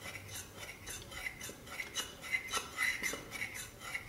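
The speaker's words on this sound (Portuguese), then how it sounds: "mexer mais um pouco o nosso amido de milho com o leite que eu acabei previamente dissolvendo" A spoon stirs cornstarch dissolved in milk for a cream filling, giving soft repeated scraping and light clinks against the bowl in a quiet, even rhythm, close and faint.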